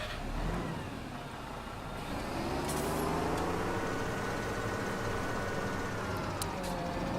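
A tractor engine in Farming Simulator 17 runs at a steady, loud drone with a rising rev and constant low rumble, with no talk.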